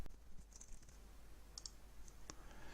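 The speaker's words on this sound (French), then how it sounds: "Je vais cliquer sur le bouton Ajout texte dans la barre d'action d'ajout d'éléments" Sparse, sharp mouse-button clicks while text blocks are added and aligned in a flat-design e-card editor: a few light taps spaced irregularly, faint and close over a quiet room hum, with no speech.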